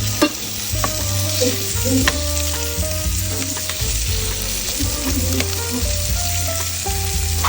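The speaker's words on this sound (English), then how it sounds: "Now we're getting these chorizo cooked up." Chorizo sizzles and fries in a hot pan, a constant crackling hiss with occasional stirring scrapes and clinks, loud and close with no talking.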